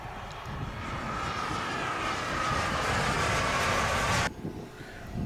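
A turbine-powered model jet comes in to land with a loud, sustained high-pitched whine and roar that holds steady, then drops off sharply near the end.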